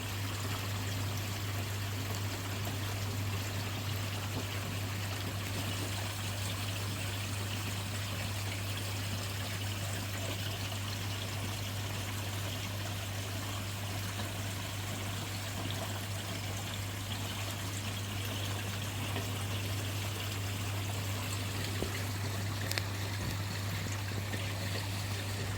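Water trickling steadily in a backyard koi pond at night, a continuous soft burbling wash with a constant low pump hum beneath it, unchanging for the full length with no voices.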